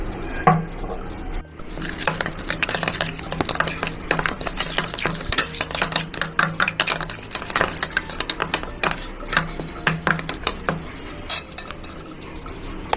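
Spoon clattering and scraping against a bowl as ingredients are stirred together with a splash of soy sauce, a busy run of quick metallic clinks and knocks close by, with no talking.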